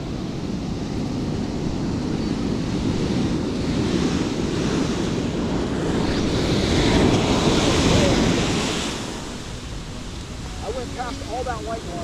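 Ocean surf breaks along a Southern California beach in Orange County during surf fishing: a broad, continuous roar of white water that swells and then eases, heavy wind buffeting the microphone, and faint voices near the end.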